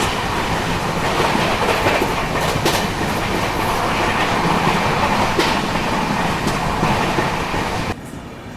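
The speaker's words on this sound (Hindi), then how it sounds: "ये नागदा अराइवल से पहले किसी ट्रेन का तो डिपार्चर हो रहा है" A train departs Nagda station, heard from aboard a moving superfast express: a loud, steady rumble with rhythmic clickety-clack of wheels over rail joints and occasional sharper clanks, dropping off abruptly near the end.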